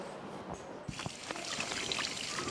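Water splashes and spills in a steady pouring stream indoors, with a few louder sloshes near the start and a continuous trickle after, close and fairly loud, no talk over it.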